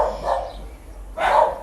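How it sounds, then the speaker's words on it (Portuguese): A dog barks twice in short bursts, close by and fairly loud, with a brief quiet gap between them and no one talking. "são esses latidos assim, muito complicados, viu?"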